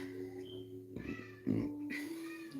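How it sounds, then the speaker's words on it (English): A pet cat meows indoors, a few drawn-out wavering calls spread over a couple of seconds, fairly faint and close, with no talk over them. "I'm not sure what the hell is going on with my cat"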